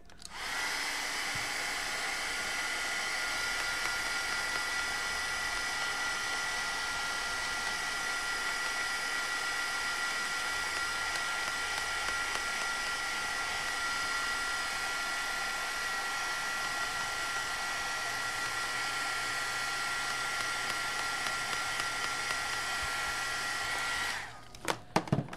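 A hair dryer blows steadily on a reworked canvas painting of a bird on a wire, a loud continuous whooshing whine held for about twenty-four seconds before clicking off at the end.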